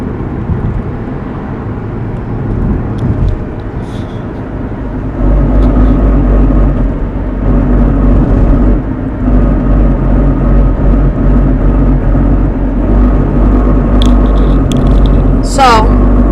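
A Toyota RAV4 in drive at about 40 mph gives a steady low vibrating drone under road and engine noise, loud and continuous throughout, with a voice speaking over it.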